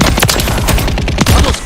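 Rapid automatic gunfire in a combat video game, dense overlapping shots in a fast rattling fusillade, loud and close for the whole stretch with a brief heavier burst near the end.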